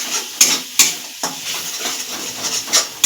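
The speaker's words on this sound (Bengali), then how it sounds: "এর সঙ্গে মিক্স করে ভেজে নেব।" Pasta and egg are stirred and fried together in a pan, with sharp intermittent clinks and scrapes of a utensil against the pan over a soft, continuous sizzle.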